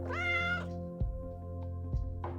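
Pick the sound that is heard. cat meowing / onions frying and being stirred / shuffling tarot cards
cat meowing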